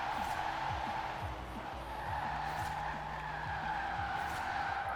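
An electric drift car in Forza Horizon 4 spins its rear wheels, giving a continuous tire squeal and skid under a steady whining motor, loud and close, with repeated sweeping pitch slides throughout.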